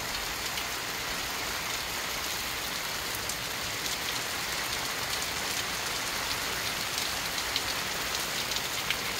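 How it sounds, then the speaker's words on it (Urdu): Heavy rain pours down steadily in Toronto, a dense, even wash of patter and splashing on surfaces that carries on unbroken with no voices. "خاموش ہو جائے اور بارش کی آواز آنے دیں"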